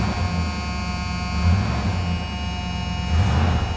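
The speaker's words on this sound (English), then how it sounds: "the buzzer doesn't shut off because the steering column's jacked up" Steady electric buzz from the warning buzzer in a classic Oldsmobile Cutlass G-body rally gauge cluster, sounding continuously without shutting off, with a low hum underneath and no talk.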